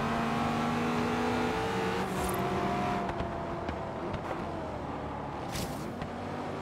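Mercedes C63 AMG engine in Forza Horizon 3, a loud continuous roar that climbs in pitch through the gears, with short sharp bursts between shifts, heard alone without voices.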